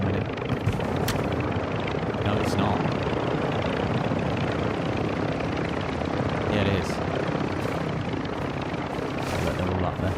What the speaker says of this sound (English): AI chopper coming in.